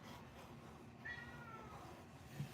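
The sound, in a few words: pet cat meowing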